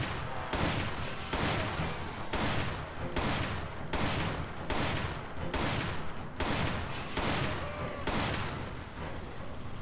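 Repeated gunfire in a video game, a steady run of sharp loud shots at roughly even intervals, each with a short ringing tail, close and continuous with no talking.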